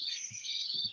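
Birds chirping, a bright high thin twittering that runs continuously at moderate loudness, with a few soft low thumps underneath.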